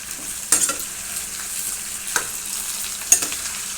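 A spoon stirs a pan of frying gutti vankaya, stuffed small brinjal curry, with steady sizzling and three distinct scraping clinks of the utensil against the pan, close and clear with no talking.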